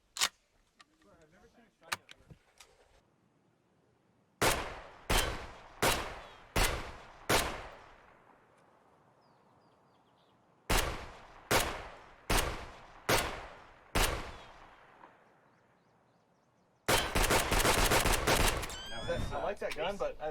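Suppressed gun fired in two quick bursts of five rounds each, sharp reports with decaying tails, followed by a dense rapid string of shots near the end; a faint voice murmurs early on.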